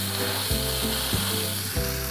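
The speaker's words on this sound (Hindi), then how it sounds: "अब हम गरम तवे पे इसको रख के अच्छे से क्रिस्पी कर लेते हैं।" A buttered veg sandwich sizzles steadily on a hot griddle, a continuous loud frying hiss broken by a few soft scraping or shifting sounds as it cooks.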